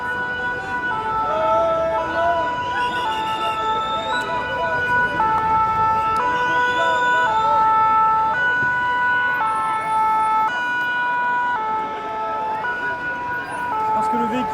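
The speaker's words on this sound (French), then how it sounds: "Et là, il y a les pompiers qui sont en train d'arriver." Fire engine sirens wail steadily in stepped, alternating tones as the trucks arrive at a street protest where a vehicle is burning, loud and close throughout with crowd noise and voices underneath.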